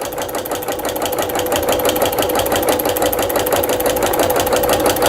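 A Singer Futura sewing machine stitches a narrow quarter-inch seam in cotton fabric at a fast, even, rapid-fire clatter. It sounds loud and close for several seconds, with no talking.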